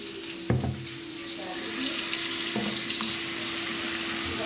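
Water from a kitchen tap runs into the sink while broccolini is rinsed. A couple of soft knocks come first, then the hiss of the stream starts and holds steady, close by, with no talk.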